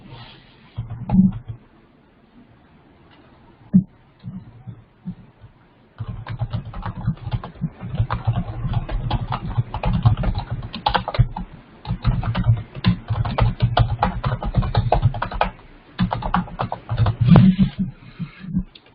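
Typing on a computer keyboard: a few scattered key clicks at first, then a steady, fast, close clatter of keystrokes that runs to the end.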